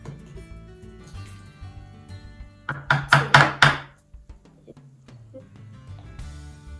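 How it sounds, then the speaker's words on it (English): Mayonnaise is spooned out for tartar sauce, giving a burst of four quick, loud knocking thunks of a spoon against a jar or bowl, followed by quieter clinks and scrapes. "First, we're going to do 2 spoons of the mayo."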